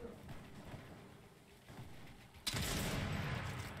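Gunfire erupts in a Fortnite collegiate esports match, a loud dense burst of shots starting partway through and continuing steadily after quieter game ambience.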